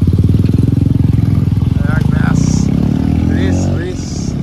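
Motorcycle engine running steadily and loud in traffic on the road into Baruipur, with a throbbing low rumble throughout and a couple of chirping horns or birds above it; voices talk over the engine.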